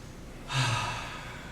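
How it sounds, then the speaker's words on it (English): A single deep breath during meditation, drawn into one long, breathy exhale that swells and then slowly fades, close to the microphone. "Breathe."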